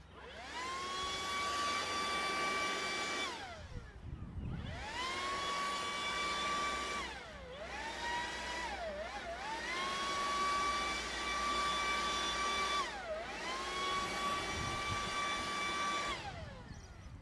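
A Makita 40V Max XGT cordless battery blower runs steadily with a smooth whirring whine, throttled down briefly a few times and then spun back up, close and fairly loud, with no talking.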